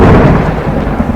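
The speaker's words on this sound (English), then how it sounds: "Crash! Yes, now this one is used to describe a loud thunderclap." A loud, close crash of thunder fills the moment with a dense, booming rumble of low roar that stays heavy throughout its brief span.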